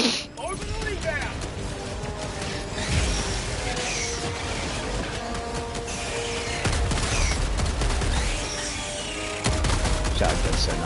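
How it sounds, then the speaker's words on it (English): A shotgun fires in the video game Helldivers 2 with repeated loud blasts and mechanical racking clatter amid dense battle noise, and a player talks over the gunfire. "Shotgun's so nice. Dragon breath."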